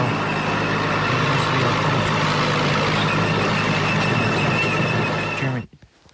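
Heavy tracked WW2 German tanks roll past with a dense, steady engine roar and clanking rumble, loud and constant before cutting off abruptly near the end.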